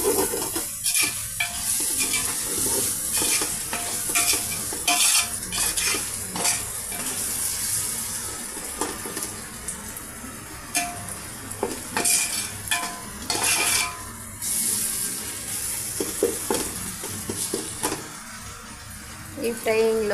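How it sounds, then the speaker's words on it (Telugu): Pieces for pulav fry in oil in a pan, a steady sizzle broken by repeated scraping and stirring clatter against the metal, heard up close throughout. "అందువల్ల బాగా ఆయిల్లో ఈ పీసెస్ అన్నీ ఇలా ఫ్రై చేస్తున్నామండి."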